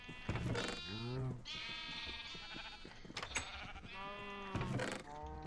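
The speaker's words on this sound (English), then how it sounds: "Let me milk the cow." Bleating from a cow while it is milked in the Minecraft TerraFirmaPunk modpack, a few wavering calls up close over a low steady game background.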